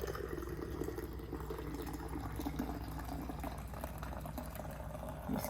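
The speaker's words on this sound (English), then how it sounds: "You put your wide mouth funnel there and then start pouring in" Plant-based yogurt mixture pours through a wide-mouth funnel into a jar, making a continuous close gurgling, bubbling liquid flow with a frothy, foamy texture throughout.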